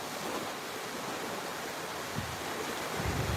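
Ocean waves breaking on a beach, a steady broadband wash of surf with a swelling roll near the end, fairly distant and without voices.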